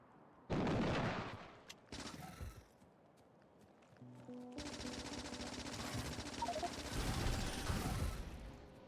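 Gunfire in the video game Factorio, loud rapid bursts of shots starting abruptly, then a sustained stretch of continuous automatic fire mixed with other game sounds.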